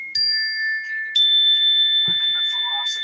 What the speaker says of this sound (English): Let me hit my projection bell!